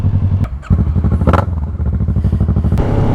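Delkevic aftermarket exhaust on a motorcycle, heard as a loud, close engine with rapid rhythmic pulsing and sharp pops and crackles as gears drop, engine note rising and falling.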